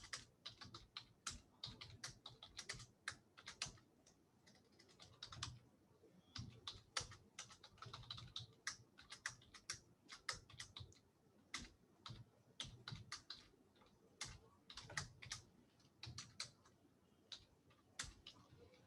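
A programmer types code on a computer keyboard in a quiet room, with rapid irregular clicks of keys in bursts and short pauses, close and fairly soft.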